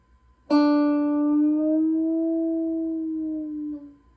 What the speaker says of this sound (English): I just plucked the D string.